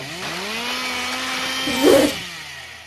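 A chainsaw in a Last of Us game mod revs with a steady buzzing drone, swelling to a louder, gritty burst near the end before settling back; no voices.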